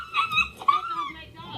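A dog whimpering and yipping in short, high-pitched bursts, mixed in with loud, agitated human talk during a street confrontation.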